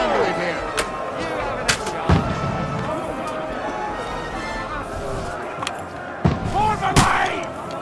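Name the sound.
gunfire in battle, from video game Kingdom Come Deliverance 2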